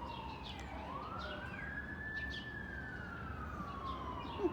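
An emergency vehicle siren wails outside, rising in a long sweeping tone that peaks midway and slowly falls, steady and moderately distant over a constant background hum.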